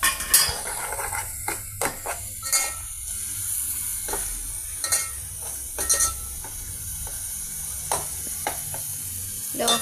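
Palak bhaji, a spinach fry seasoned with chili powder and splashed with milk, sizzles softly in a pan over a low flame. Sharp scrapes and clinks of stirring break in repeatedly, close by, with no talk.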